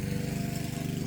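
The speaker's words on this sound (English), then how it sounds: "my neighbor turned on the lawnmower" A neighbor's lawnmower engine drones steadily throughout, a continuous low, pulsing motor hum at moderate distance with no break.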